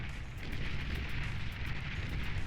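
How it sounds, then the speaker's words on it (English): Mines go off one after another across the battlefield as an army hits defensive lines in the strategy game Beyond All Reason, a dense rumbling wash of overlapping explosions and crackles at steady loudness. "mines going off everywhere"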